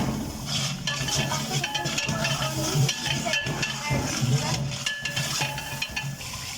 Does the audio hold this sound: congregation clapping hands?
no